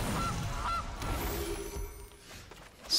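A honking goose sound effect played when the Gilded Goose card enters in the digital card game MTG Arena, heard over a dense game soundscape.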